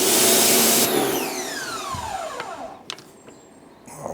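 A stubby compact pressure washer gun driven by a Parkside pressure washer runs loud and steady with a broadband roar, then winds down with a falling whine as the motor shuts off, followed by a few clicks and knocks.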